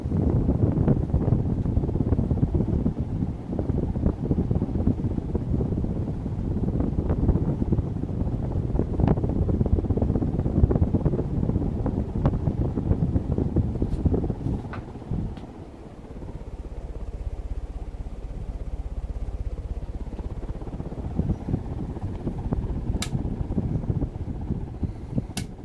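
An antique 1910 Century ceiling fan spins at full speed, giving a loud, steady rushing whir of air with a dense broadband roar that dips briefly midway before returning, continuous throughout with no voices.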